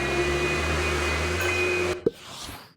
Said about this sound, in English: Oh, we've got that vac to vacuum as well.